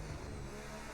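Race car engine from a Formula 1 video game, Saudi Arabia track, roars steadily and loudly throughout the second with a sustained mid-pitched drone and no voices.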